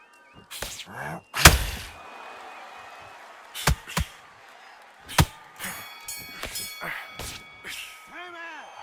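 Boxing ring bell clangs in the Undisputed video game during a Muhammad Ali versus Joe Frazier bout: several sharp metallic rings with short ringing tails, scattered among punches and commentary talk.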